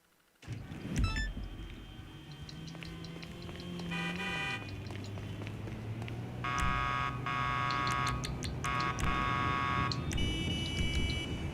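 Electronic alert beeps from a raid timer in GTA 5 Online, in a CEO special cargo warehouse, repeating in bursts of rapid high tones over a steady low game hum and engine drone, with no talking.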